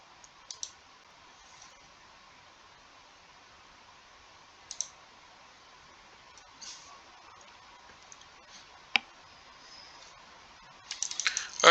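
Sparse computer mouse clicks spaced across several seconds over a quiet hum while browsing real estate listings, ending in a quick burst of clicks.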